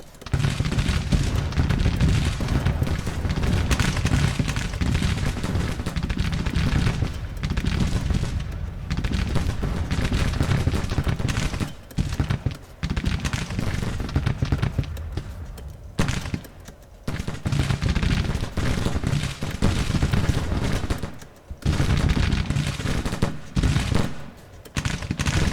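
Civil War skirmishers trading rifle fire in the Grand Tactician strategy game, Shenandoah battle: a dense, loud, continuous crackle of musketry and distant booms that rolls on with only brief lulls.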